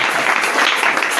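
A church congregation applauding loudly, a dense, continuous wash of clapping at close range throughout.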